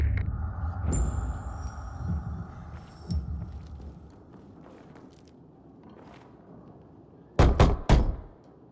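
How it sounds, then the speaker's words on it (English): Door knocking in the video game Dying Light 2, a run of sharp, loud raps near the end, after quieter thumps and shuffling footsteps earlier in the scene. "Knock on some doors."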